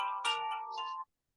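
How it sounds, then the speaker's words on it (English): A phone ringtone plays a short, bright chiming melody, moderately loud and alone, cutting off abruptly after about a second. "Somebody's got a phone call."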